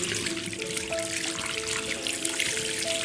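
Hot water runs from a tap inside a haunted house in a video game, a steady trickling stream with a few faint tonal whines, continuous and alone.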